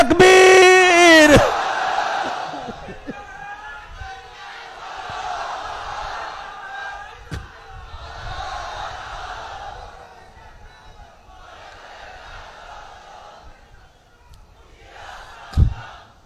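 A large crowd at a Bangla Islamic sermon gathering roars back a takbir chant in answer to the preacher, loud and sustained at first, then rolling in several waves of massed distant voices.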